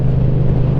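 A loud, close motorcycle engine drones in a steady low rumble, mixed with heavy wind buffeting, and no voices are heard.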